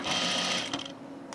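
Sewing machine stitching the two edges of a shirt collar together, a steady close whirring run that stops partway through, followed by quieter handling.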